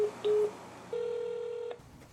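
An outgoing telephone call being placed: a few short dial tones followed by a long steady ringback tone, clear and close with no voices.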